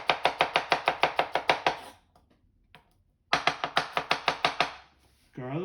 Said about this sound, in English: the best way to mince garlic and shallots is to start first by slicing